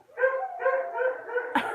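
Dogs howl close by in a series of wavering, drawn-out cries that run together into one another and end in a sharper yip.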